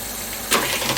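A Griffin 707A (Denon 700) professional reel-to-reel tape recorder fast-winds its tape, giving a steady, loud whirring hiss that surges brighter halfway through.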